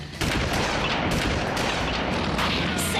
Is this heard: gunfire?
yes